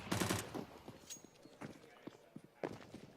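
Gunfire and grenade blasts from a CS GO match on the Inferno map, with sharp repeated shots and bursts through the middle of the map, some louder near bursts, mixed with faint commentary.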